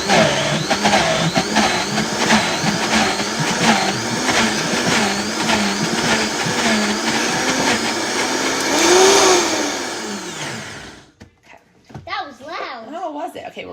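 A blender pulses pesto as olive oil is added, its motor whining and rising in pitch across several seconds before cutting off, followed by someone talking.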